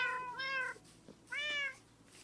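Two clear, fairly soft meows from cats in Minecraft, spaced about a second apart with quiet between them.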